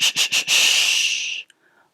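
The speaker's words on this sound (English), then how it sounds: "Exhale, empty the breath." Breath during a breathwork exercise: three quick, sharp nasal pulses followed by one long forceful exhale that hisses steadily for about a second before cutting to silence, close and clear.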